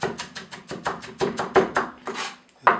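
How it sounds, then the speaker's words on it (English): A knife chops minced onion on a cutting board in quick, even strokes, about a dozen crisp close knocks in a steady rhythm with brief pauses near the end. "Give it one final chop."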